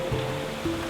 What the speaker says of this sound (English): we've got pretty sharp little chop